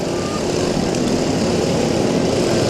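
Several racing lawnmower engines drone steadily at a dirt-track bash event, a loud, continuous buzzing roar with no talk over it.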